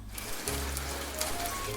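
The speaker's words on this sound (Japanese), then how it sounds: "これは雨の音です。" Heavy rain falls steadily on a surface as a dense, continuous hiss, close and moderately loud, with no one talking.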